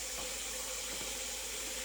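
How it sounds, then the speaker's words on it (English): Water running from a kitchen tap into a sink full of dirty dishes, a continuous even hiss of flowing water, steady and moderately faint throughout with no talk. "the water is going over there because I am filling up those dishes with water"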